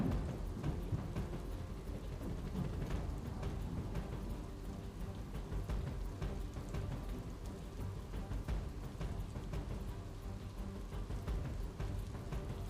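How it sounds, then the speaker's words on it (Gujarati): Gentle rain falling in the evening over western Ahmedabad, around Memnagar to Prahladnagar, a steady, even patter of drops on surfaces, fairly soft and continuous, with no voices. "ધીમી ધારે છેલ્લી અડધી કલાકથી શહેરના પશ્ચિમ વિસ્તારોમાં વરસાદ છે તે વરસી રહ્યો છે"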